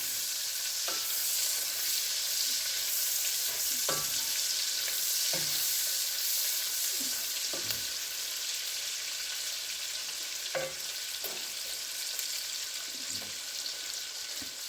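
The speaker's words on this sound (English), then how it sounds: "I'm going to cook these until the meat kind of darkens up a little bit." Meat for Hoppin' John sizzles steadily in a pan over lowered heat, a constant bright frying hiss with occasional soft knocks and scrapes of stirring, no voices.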